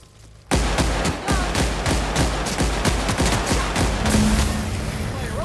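Gunfire in the video game The Outer Worlds: rapid, dense bursts of shots crack out one after another, loud and close, in a sustained firefight.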